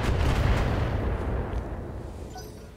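Mech weapons firing in the BattleTech video game, including a PPC volley: a heavy blast at the start with a deep rolling rumble that slowly fades away over a few seconds.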